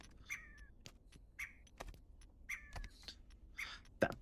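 Short chirping bird calls in the video game Baby Steps, a few brief warbling phrases repeating every second or so at moderate distance, mixed with scattered clicks and thumps.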